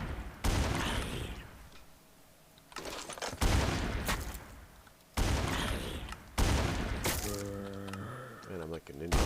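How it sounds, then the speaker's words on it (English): Bursts of gunfire aimed at the player in the video game Towncraft, several loud volleys of rapid cracks separated by quieter gaps, with a person talking between and over the shots. "Oh, why are you shooting at me"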